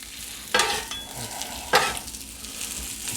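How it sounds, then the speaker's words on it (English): Onions and pepperoni sizzle on a hot griddle, a steady frying hiss broken by two sharp scraping stirs. "Toss my onions and the pepperoni juices."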